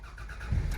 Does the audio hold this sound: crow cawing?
no